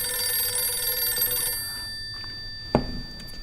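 A telephone in the video game Resident Evil 9 rings with a steady high electronic tone that stops partway through, leaving a quiet room and a single soft thud.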